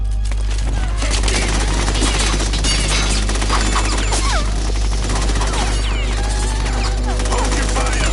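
Sustained automatic gunfire from Metal Gear Solid 2 on hard mode, dense rattling bursts over a constant low hum across the whole span, with clattering impacts and crashes mixed in.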